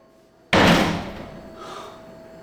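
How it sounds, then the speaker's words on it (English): A door slams once, a sudden loud close bang that rings out and decays over about a second, then leaves a quiet room with a faint rustle and no speech. "Why did they slam the door like that?"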